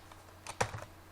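A ping command is typed on a computer keyboard in a short cluster of several quick, close key clicks, with one sharper keystroke in the middle and no talking.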